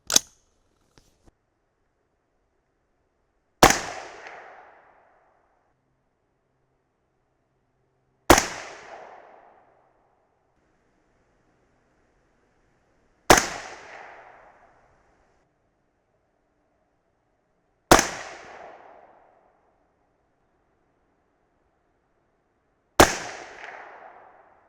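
Six sharp rifle shots from a .223 Remington firing 62-grain Speer Gold Dot bullets over 8208 XBR powder, spaced about four to five seconds apart, each a loud crack with a short decaying tail, with no talking between them.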